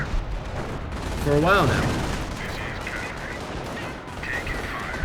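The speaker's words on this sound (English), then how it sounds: "Howitzer barrage onto the mortar, trying to counter barrage him" Howitzer artillery barrage in the Company of Heroes video game, a 3v3 match on a forest map: booming gunfire thuds that swell briefly and roll on under a commentator's steady talk.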